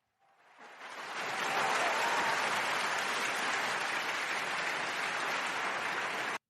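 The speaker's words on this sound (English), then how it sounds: "I refuse to start off without fake applause." Canned applause sound effect swells in over the first second and holds as a steady, dense wash of clapping, loud and alone with no voices, then cuts off abruptly.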